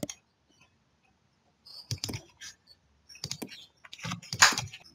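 Keys on a computer keyboard click in short bursts as a command is typed and entered. The taps come in quick clusters separated by quiet pauses, close and clear.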